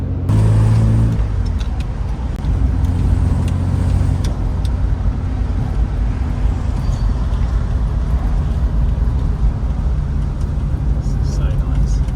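Classic Aston Martin driving at Beaverbrook, a steady, loud engine and road rumble that runs throughout with no clear revs, while speech is faintly present underneath.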